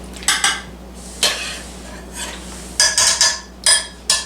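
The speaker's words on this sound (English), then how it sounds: "Okay, so go ahead and shred your beef." Slow cooker balsamic roast beef shredded with metal utensils, giving sharp clinks and scrapes against the pot in irregular bursts over a low hum, close and without speech.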